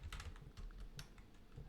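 Soft, close clicks of someone typing commands into MATLAB on a computer keyboard, a quick irregular patter of keys that pauses briefly before the tapping resumes.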